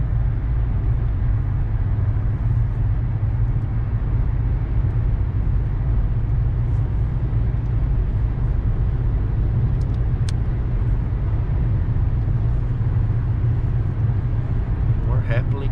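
A car on a test drive after an oil change gives a steady low engine and road rumble, constant and close from inside the cabin, while someone talks over it.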